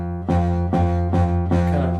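Guitar string plucked with the fret not pressed down hard enough, giving a muted, rattly buzzing tone; four close strums or plucks ring in a row, each sustaining briefly before the next, with no talking.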